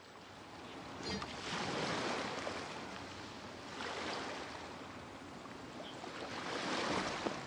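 Ocean waves rolling in within the game Genshin Impact, broad, soft washes of surf swelling and fading in slow repeated surges, with no voices.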